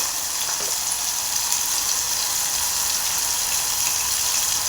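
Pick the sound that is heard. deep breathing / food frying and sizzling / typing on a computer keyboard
food frying and sizzling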